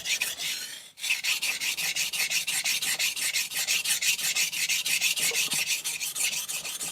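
A Yoshida Hamono Bunka Black 190mm ZDP189 steel knife stroked across a ceramic sharpening stone, a loud, steady rasping scrape repeating in quick even strokes after a brief pause near the start.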